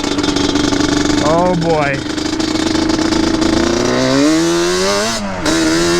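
Yamaha Banshee engine running loud and close, with a steady drone that rises in two quick revs and then climbs again more slowly toward the end. Someone talks briefly over it.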